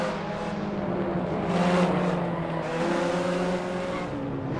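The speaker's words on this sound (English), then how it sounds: "they've made contact. Both drivers are spinning." Formula 4 race cars at Long Beach in Assetto Corsa, engines droning steadily with a brief tire squeal and a swell as two cars make contact and spin, loud and continuous.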